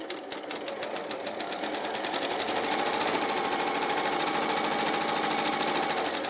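A sewing machine runs fast and steady, stitching together fabric pieces for a campervan cushion, its rapid needle rattle loud and close with no talking.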